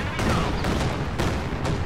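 Rocket artillery fire from Katyusha launchers in a real-time strategy game, a dense rumbling barrage of overlapping blasts, with stronger bursts near the start and at about one and a quarter and one and two-thirds seconds, loud and continuous throughout.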